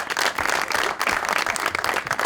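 Studio audience applause on a Pakistani comedy talk show, a dense, loud burst of many hands clapping together that holds steady throughout.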